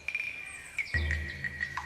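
Birds in Père Lachaise cemetery, Paris, give clear, bright chirps and short whistled calls that repeat at close range, with a low rumble coming in partway through.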